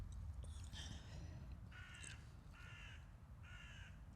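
A crow caws three or four times at a distance, harsh calls in even succession over steady low rumbling background noise, faint and outdoors.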